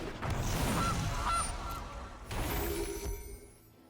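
A goose honks loudly twice in MTG Arena, close up, its nasal calls separated by a short pause, with no talking.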